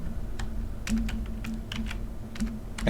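Someone types on a computer keyboard in quick, uneven bursts of close clicky keystrokes over a low steady hum, with short pauses between flurries and no talk.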